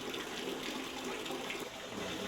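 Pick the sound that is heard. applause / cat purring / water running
water running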